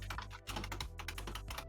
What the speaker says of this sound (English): I think that's the sound of a mechanical keyboard.